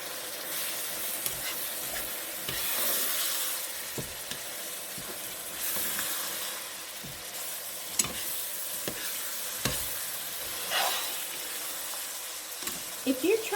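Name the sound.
stirring shepherd's pie ingredients together in a pan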